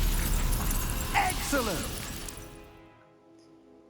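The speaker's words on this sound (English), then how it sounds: "I'm going to use R2 to do basic cast to shatter this ice." Ice shatters from a basic cast spell in Hogwarts Legacy, a loud crackling burst with tinkling glassy fragments that fades out over about two seconds, with a voice over it.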